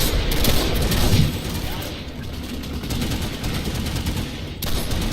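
Rapid bursts of gunfire from a slug-loaded shotgun with an extended magazine in the Planetside 2 video game, a dense clattering fusillade of repeated shots, loud and close, with a voice talking underneath.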